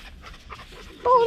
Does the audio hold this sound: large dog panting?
yes